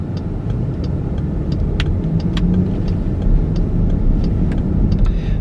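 A car driving at night, heard from inside as a loud, steady road and engine rumble with faint ticking and clicking over it, no voices.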